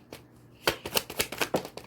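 Tarot cards being shuffled by hand, a quiet start followed by several sharp riffling bursts in an uneven rhythm, close and clear.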